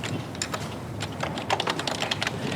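Typing on a computer keyboard while entering text in Microsoft Word during a class demo: a steady run of close, light plastic key clicks in quick irregular bursts, with a few louder taps, and no talking.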